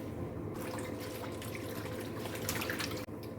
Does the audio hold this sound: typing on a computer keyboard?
no